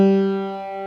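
One sustained piano note G, played with the left-hand pinky in a beginner five-finger scale exercise, rings clear and alone before slowly decaying.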